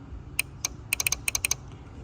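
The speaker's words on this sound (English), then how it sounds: "Now we're going to listen for a click." A Jeep TJ horn relay ticks sharply about ten times in quick irregular bursts when powered, close and crisp against a quiet low hum.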